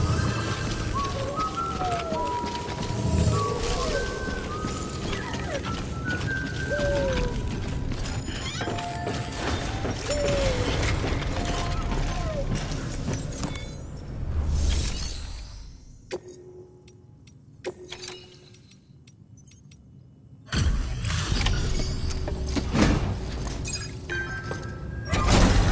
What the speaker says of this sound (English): Decontaminating suit.